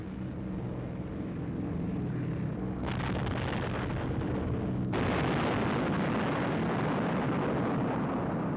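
Bombs from a WWII bomber formation burst on the target as a dense, continuous rumble of explosions that grows louder in two distinct stages, with no talking.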